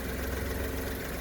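A 1997 minicab's old-technology engine idles, said to run a little rich when cold: a steady, even low rumble that holds unchanged for the whole stretch, with no other sounds.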